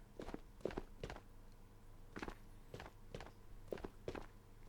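Footsteps in a video game while a guard-protected boss called the Collector lurks nearby, with several heavy, evenly paced thuds in small pairs and clusters, fairly close and alone.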